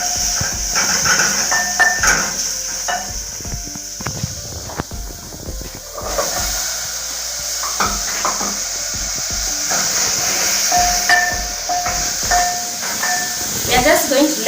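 Liver and carrots simmer in a pot with a steady hiss and sizzle of steam, punctuated by brief stirring and utensil clatter, while a person talks intermittently over the cooking noise.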